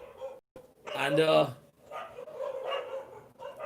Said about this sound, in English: okay, my friends are calling me outside. These dogs. If you can hear these dogs.